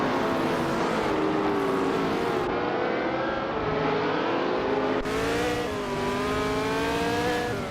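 Lotus 70 race car engine in a racing game, a loud continuous whine with rising pitch sweeps through gear changes, steady and close with no talk.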